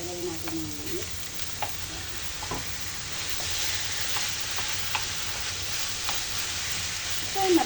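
Ground pork sizzles steadily in a hot pan, an even frying hiss close up broken by scattered scrapes and taps of a spatula, with brief faint voice sounds at the start and end.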